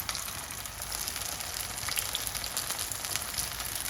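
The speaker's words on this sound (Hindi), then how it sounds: "अब हम इसमें आलू की टिक्की डालना शुरू कर देंगे।" Potato tikki fry in hot oil, giving a steady, soft sizzle and crackle that continues evenly without any voices.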